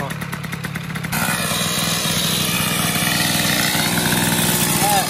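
A Peugeot 103 moped sits idling too high, its small two-stroke engine buzzing steadily and loudly up close after a brief rougher opening, with a voice talking over it.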